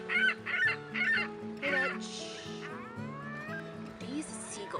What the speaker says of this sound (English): these seagulls, my god